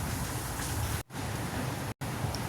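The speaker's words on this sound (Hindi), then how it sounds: "यहाँ पे बारिश हो रही है" Steady rain falls outside as a dense, even hiss of drops, close and fairly loud, broken by two brief cut-outs of silence.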